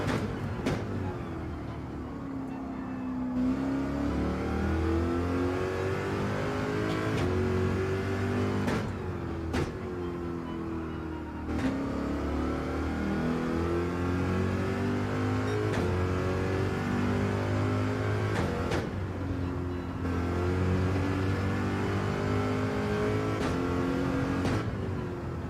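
Genesis GR.3 race car engine in Gran Turismo 7 at Watkins Glen, revving hard through repeated gear climbs with sharp shifts and drops, a continuous loud drone with no talk over it.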